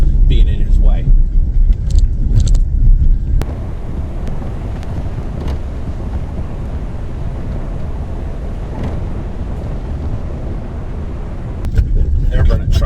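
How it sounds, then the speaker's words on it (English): A heavy pulp truck rumbles past on a gravel road along the Kennebec River in rural Maine, a loud, steady low roar lasting several seconds with wind buffeting the microphone, brief voices before and after. "They're running trucks through here"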